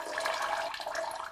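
A toilet flushes with a rushing, gurgling surge of water, steady and fairly close, fading slightly toward the end with no voices.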